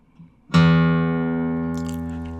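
A single plucked low E string on a guitar, struck once for tuning and left to ring out clearly with a long, slowly fading sustain, no voices.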